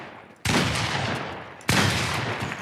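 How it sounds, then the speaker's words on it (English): A pump shotgun in Fortnite UEFN fires twice in quick succession, two loud, sharp blasts about a second apart, each trailing off into a noisy decay. "So it allows you to do a double pump with a pump shotgun"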